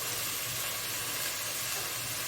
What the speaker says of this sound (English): So I've got my onions in the olive oil, and they're just frying up beautifully.